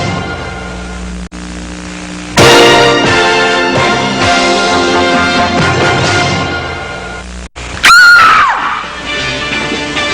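A woman screams loudly in a soap opera scene, with one long sustained shriek and then a second sharp rising scream near the end, over a dramatic music bed.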